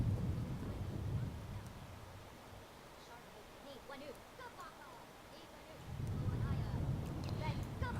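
A low rumbling thunderstorm in The Sims rolls in at the start, fades, then swells again near the end, with faint chattering voices in the quieter middle.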